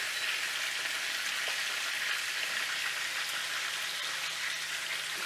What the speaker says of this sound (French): Faire sauter nos pommes de terre.